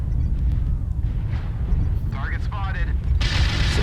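MechWarrior Online combat: rumbling weapon fire and booming impacts roll under a steady mechanical drone, with sharp whooshing and zapping sweeps near the end, and a voice talks over the action.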